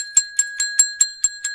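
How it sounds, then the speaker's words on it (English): A fire bell rings in a rapid, even series of about seven bright metallic strikes, each with a short ringing tail, clear and close with nothing else around it. "The fire bell rings"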